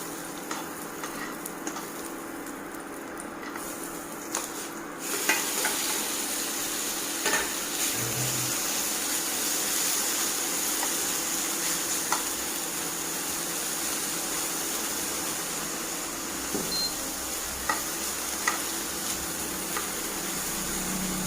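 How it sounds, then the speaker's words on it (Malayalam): Chicken pieces frying in butter in a pan, a steady broad sizzle running throughout with occasional stirring clinks and scrapes, no talk. "ഇനി നമുക്ക് ചിക്കൻ ഒന്ന് പൊരിച്ചെടുക്കാം."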